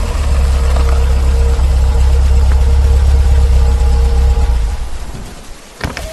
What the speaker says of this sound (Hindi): पीछे से एक गाड़ी उसके पास आकर रुकी